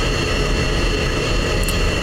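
An F-16 fighter jet engine taxiing in a flight simulator game gives a steady, loud turbine roar with a broad low rumble and a constant high whine, unbroken and close throughout.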